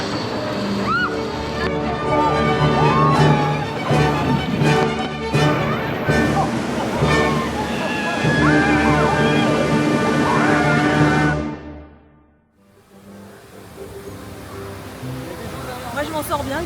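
Water sloshes and splashes loudly around a boat on a water ride at the world's largest Universal theme park, a rushing churning wash that drops away abruptly, then returns as softer flowing water, with riders' voices mixed in.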